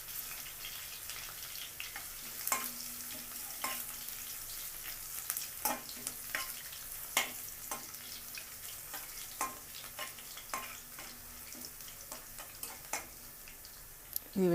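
Garlic frying in a pan for egg tomato curry, a soft, steady sizzle close by with repeated sharp clicks and taps of a spoon against the pan.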